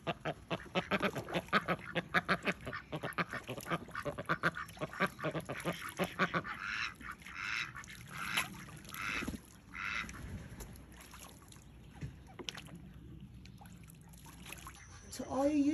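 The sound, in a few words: duck quacking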